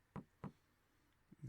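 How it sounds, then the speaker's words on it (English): Two sharp, hollow knocks land close together, then after a quiet pause two more softer knocks follow in quick succession, all close by in an otherwise still room. "Knock, knock, knock, knock."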